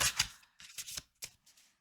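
Two decks of oracle cards are shuffled together in short riffling bursts, several quick flutters separated by brief pauses, close and alone.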